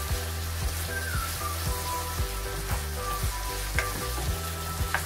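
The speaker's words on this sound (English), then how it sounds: "Then I'm going to add a bit of soy sauce." Chicken, peppers and broccoli stir-frying with soy sauce in a hot pan, a steady close sizzle with rhythmic scraping and clanks from stirring.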